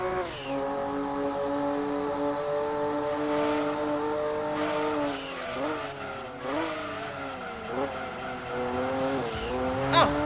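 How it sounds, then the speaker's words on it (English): Porsche race cars in the Gran Turismo 2 racing game at Grand Valley, one spinning out: a steady, loud harmonic engine drone with wavering pitch and skidding tire squeal, continuous throughout. "Oh, the other Porsche spun out."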